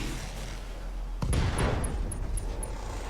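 Mech weapons firing in the RogueTech video game: a sudden heavy boom about a second in, followed by a dense rumbling volley and a run of sharp high pings, loud and close, with no talk.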